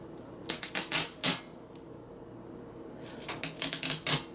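Duct tape is pulled off the roll in two quick clusters of short, crackly rips, then cut to roughly an 18-inch strip for a DIY flower. It is close and crisp, with a quiet pause between the bursts and no talking.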